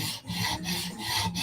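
A knife blade rasps back and forth across a 150 grit Halfstone Premium CBN sharpening stone, close and loud in steady rhythmic strokes, with no voices.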